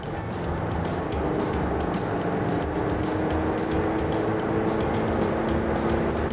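A Hyundai Staria diesel van with 177 horsepower accelerating hard, its engine droning steadily under constant road and wind roar, loud and close from inside the cabin.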